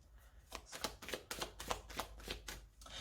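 Oracle cards cut and riffled by hand in a quiet room, a rapid run of crisp papery flicks repeating in short bursts, close and steady with no talking.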